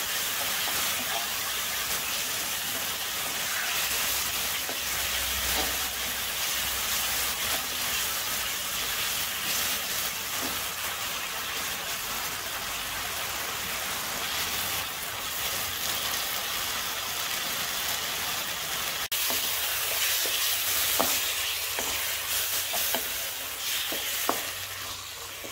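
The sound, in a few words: chicken and chana dal cooking in oil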